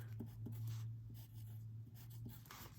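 Steady scratching of a pen or marker writing equations by hand, close and continuous with short strokes and taps, over a low steady hum, no talking.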